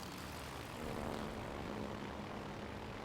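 Carrier aircraft from the Ark Royal fly overhead in World of Warships: Legends, a dense, steady propeller-engine drone that swells slightly midway and holds without a break.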